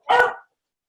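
A single short, sharp dog bark, close and alone, followed by silence.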